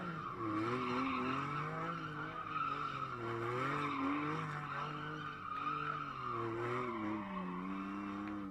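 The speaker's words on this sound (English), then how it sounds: "he's going to do some donuts, but has to eliminate the TC to make it happen" A GT4 race car doing donuts at a Canadian circuit, tires skidding and squealing continuously in a loud, wavering howl with the engine droning underneath throughout.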